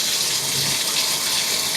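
Water runs steadily from the tap into a tub shower, a continuous bright hiss and splash, close and unbroken.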